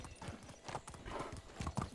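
Horse galloping in Medieval Dynasty, hooves pounding in a quick, steady clip-clop rhythm, close and brisk over a short run, with no talk.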